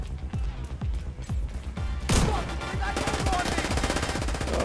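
A boss in The Division 2 fires shock ammo in rapid bursts of loud, close gunfire, with sharp cracking impacts stacking into a dense, continuous barrage.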